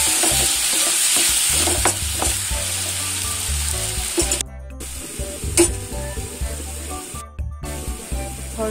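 Soya chunks masala frying in hot oil in a pan, a loud close sizzle with repeated scraping stirs that briefly drop out and then return.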